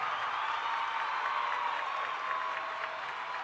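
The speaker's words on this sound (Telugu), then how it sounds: "అందరూ గట్టిగా చప్పట్లు కొట్టండి" Faint, distant applause from a studio audience at a televised Telugu dance reality show, a brief steady wash of clapping with no voices.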